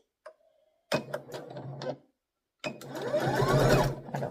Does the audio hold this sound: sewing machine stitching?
yes